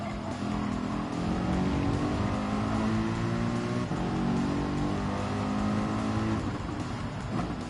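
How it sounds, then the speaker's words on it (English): A car under engine braking gives a loud, close, continuous engine drone whose pitch shifts slightly as it slows, with no pauses across the whole stretch. "That was a good engine braking through there."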